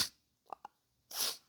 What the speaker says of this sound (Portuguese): então eu espirrei